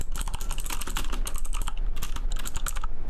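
Fast continuous typing on a computer keyboard, a dense, loud clatter of keystrokes close to the mic with no pauses and no talk.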